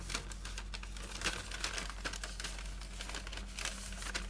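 A brown paper bag is folded back along its crease and popped open, making dense, close crinkling and rustling that runs continuously for several seconds.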